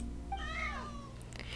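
Two game cats, Harut and Marut, in Genshin Impact let out a single drawn-out, wavering meow, clear and close over a low steady background hum.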